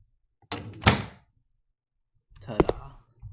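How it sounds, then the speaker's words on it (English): A door in a video game unlocks and swings open, then later closes and opens again, each movement a short wooden creak and thump separated by a second of silence. "we pick up the key and unlock it, and now the door opens. And it will close and open"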